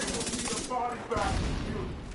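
Shotgun blasts in a video game, several booming shots in quick succession up close, with a voice briefly audible between them.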